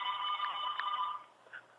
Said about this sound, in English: Okay, that's my phone.